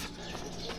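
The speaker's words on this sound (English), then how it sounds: "birds are just going nuts" Birds chirping and cooing by a building in a quiet part of Kyoto, a steady outdoor chorus at moderate distance.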